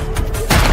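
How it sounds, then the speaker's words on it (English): A grenade goes off on a street, a single loud, close blast with a dense rumbling burst that swells again near the end of the brief moment. "someone threw a grenade onto the street"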